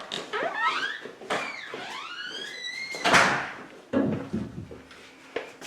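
A garage door rumbles and squeals as it moves, with rising creaky scrapes followed by a louder clattering thud and a few lighter knocks, close by.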